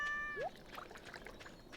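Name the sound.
cat meowing in Stardew Valley video game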